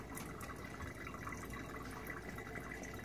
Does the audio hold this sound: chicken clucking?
no